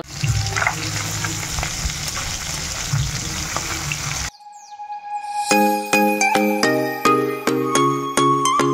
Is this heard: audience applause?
no